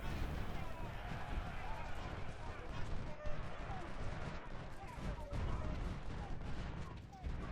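Dismounted cavalry firing rifle volleys in the Civil War strategy game Ultimate General: Civil War, a dense crackle of overlapping shots and distant booms heard quietly behind someone talking.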